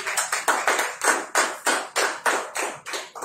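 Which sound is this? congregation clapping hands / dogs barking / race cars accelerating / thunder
congregation clapping hands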